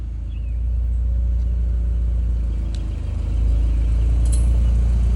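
A modified Volkswagen car backs out for a test drive, its engine rumbling low and steady nearby, rising slightly as it moves off, with no talk.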